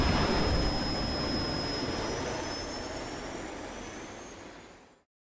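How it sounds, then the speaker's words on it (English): Aircraft takeoff sound effect, a loud broadband jet roar with a thin high whine that holds steady, then gradually fades before cutting off abruptly, no talking. "T. Gray and MK, you are now cleared for flight school takeoff"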